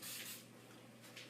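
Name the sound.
cooking oil spray sprayed over béchamel-topped pasta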